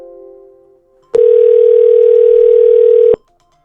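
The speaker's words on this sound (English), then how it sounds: "And it starts calling my test phone." A FreePBX phone system calling a test phone: a brief fading tone gives way to a single loud, steady electronic ring tone lasting about two seconds before cutting off abruptly.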